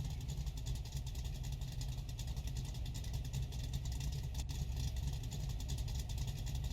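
A tow truck's engine runs steadily in reverse while backing onto an old trailer, producing a constant low rumble with no real revving and no voices.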